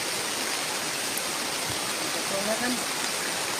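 Steady rain falls in a broadband wash, continuous and fairly loud, while people talk quietly beneath it.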